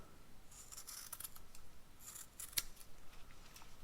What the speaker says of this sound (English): So I'm gonna cut it right here.